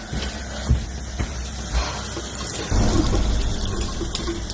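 Water runs from a kitchen tap at 2 a.m. as a steady, close rushing stream, with a few soft knocks early on. The flow grows noticeably louder and fuller partway through, and no one speaks.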